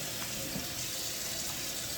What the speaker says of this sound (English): I'm gonna put some water in this, right, and then I'm gonna wash them